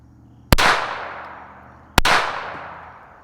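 Two sharp, loud gunshots from a Taurus TX22 .22 rimfire pistol, spaced about a second and a half apart, each with an abrupt crack and a decaying outdoor echo tail.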